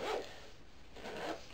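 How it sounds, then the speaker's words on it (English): A zipper on a small black and orange camera case with a rubber pull tab is drawn twice, two short, quiet rasping strokes close by with a brief pause between them. "But the zipper"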